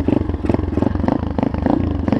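A 2011 Pitster Pro 230cc pit bike engine idles and runs close by on a cold day, a steady loud low chugging with rhythmic pulses and slight revving throughout.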